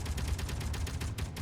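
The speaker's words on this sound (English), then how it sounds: "this thing's firing autocannon" Autocannon fire in Space Engineers, a short burst of quick, evenly spaced heavy shots pounding away at close range, loud and unbroken throughout.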